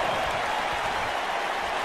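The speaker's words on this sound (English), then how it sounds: "You can hear the crowd into it." Arena crowd at a live wrestling event cheering and applauding steadily, a dense continuous roar with no individual voices standing out.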